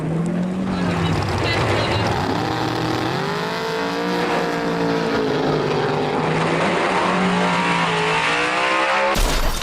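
Cars speed past in a drag race with continuous roaring engines whose pitch swoops up and down as they accelerate and pass, loud throughout, ending in an abrupt cut.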